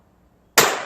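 A single sharp .22 Long Rifle shot from a North American Arms mini revolver striking a barrel, bursting loud and close out of silence with a bright crack that decays quickly.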